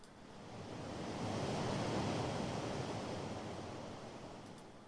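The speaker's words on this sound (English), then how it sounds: "I'm happy that you can still hear these waves. These relaxing waves." Relaxing ocean waves play back from a computer as steady broadband surf, swelling gradually to a peak midway and easing off again, with no talk over it.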